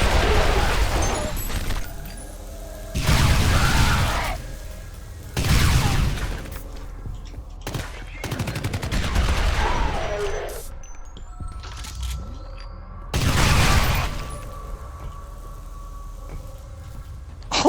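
Gunfire from an overpowered weapon in the shooter F.E.A.R., loud bursts of shots and blasts arriving in several separated volleys with quieter stretches and clattering between them.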